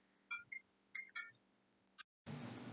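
A phone giving several short electronic beeps and tones in quick irregular clusters, quiet and isolated, before a sudden burst of louder broadband noise at the end.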